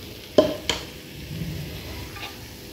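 Red chili powder dropped into hot oil for a homemade chili oil, giving a soft, low sizzle after two sharp clinks of a spoon against the pan.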